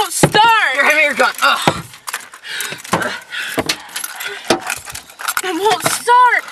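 Keys jangle and clink in a frantic search for car keys during a zombie escape, busy metallic rattles mixed with loud, overlapping talk.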